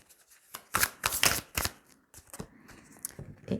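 Tarot cards being shuffled and drawn, a run of crisp riffling bursts and soft slaps close up, followed by quieter sliding and flicking of single cards.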